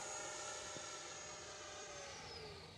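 Horizon Hobby F-15 Eagle radio-controlled jet with a 64mm electric ducted fan gliding past at low throttle, a faint, steady whooshing whine that slowly drops in pitch as it moves away.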